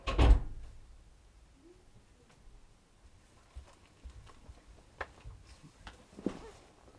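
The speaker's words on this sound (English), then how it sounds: "close my door?" A door closes with one sharp, loud thud at the start, followed by faint scattered clicks and small knocks in a quiet room.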